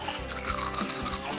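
An icicle used as a toothbrush scrubs back and forth in a mouth, a close, wet, rapid brushing rasp that continues without pause through the short moment.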